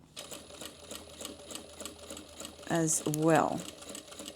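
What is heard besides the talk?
sewing machine back-stitching a pleated bag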